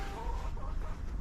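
Backyard chickens cluck in a garden, a soft, steady mix of low murmuring clucks from a small flock nearby.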